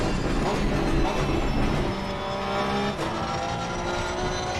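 A race car engine in the Gran Turismo 7 video game during qualifying at Donington, a loud continuous high-revving drone with shifting engine tones and faint tire noise, no talk.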